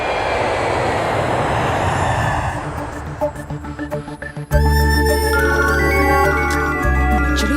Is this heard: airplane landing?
yes